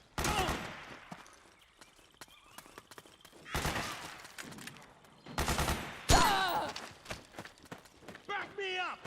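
Bursts of video-game gunfire from Metal Gear Solid 4, sharp fusillades in several loud clusters separated by quieter gaps, with voices speaking between the volleys.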